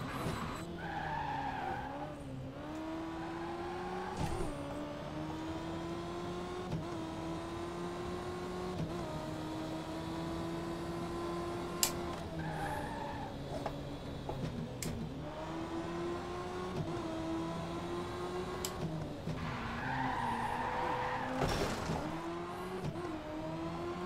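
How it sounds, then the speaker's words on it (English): Race cars power sliding in Victory: The Age of Racing, with sustained engine drone rising and falling under repeated long tire squeals and skids, steady and fairly close throughout. "These cars like the power slide too. Definitely plenty of opposite lock steering."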